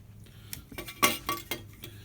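A Dutch Army canteen cup is set onto a folding stove, giving a few metallic clinks and clatters over about two seconds, close and moderately loud, no talking.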